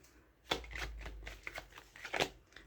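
Tarot cards being shuffled and a card drawn during a Gemini monthly reading, a run of soft papery riffles and flicks, close and fairly quiet, with no talking.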